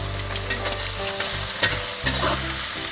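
Shrimp fried rice with garlic being tossed in a hot pan: constant sizzling with scattered scraping and tapping of the spatula against the pan, close and fairly loud, with no one speaking.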